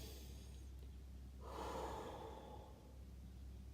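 A deep breath drawn in as a demonstration of calm breathing, a single close, airy inhale rising and fading over about a second, heard alone.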